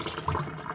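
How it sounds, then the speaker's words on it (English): Tap water running into a sink during handwashing in a small woodland homestead kitchen, a steady close splashing flow with no talk. "I'm going to wash my hands real quick."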